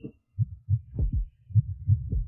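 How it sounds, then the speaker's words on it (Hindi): A fast heartbeat sound effect thumps in quick paired beats, deep and close, repeating steadily with no other sounds around it. "तुम्हारी धड़कन बहुत तेज है।"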